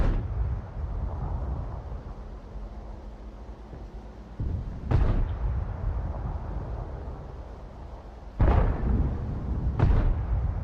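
Tank cannon fire in World of Tanks: three heavy booming shots, each a sharp blast with a rolling low tail, spaced several seconds apart over a steady low engine rumble.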